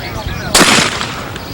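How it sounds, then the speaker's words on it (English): A single sharp gunshot rings out on a wobble trap shooting stage, a loud close blast with a brief ringing decay, set against quiet outdoor background. "I'm shooting across here."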